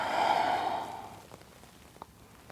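A slow, audible exhale through the mouth during a gentle yoga forward fold, breathy and close, fading out after about a second into quiet room tone with a couple of faint soft clicks.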